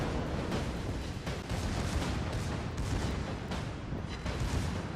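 Secondary guns on a warship in the World of Warships video game fire in rapid, overlapping booms, a dense, continuous barrage of heavy blasts and rumble.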